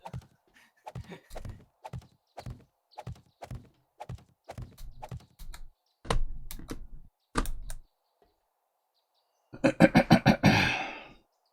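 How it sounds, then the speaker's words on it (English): Clicky mechanical computer keyboard typing in quick bursts of sharp keystrokes, loud and close, with a longer flurry of rapid clacks at the end and brief pauses between runs. "So your click keyboard's kind of throwing me off"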